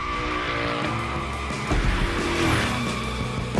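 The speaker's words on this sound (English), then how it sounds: "Let's see how you handled your first slides with the Hoonicorn" Hoonicorn Mustang in The Crew Motorfest sliding through a gymkhana run, engine roaring loud and close as tires squeal and skid through a sustained drift, with a louder surge of revs and scrubbing partway through.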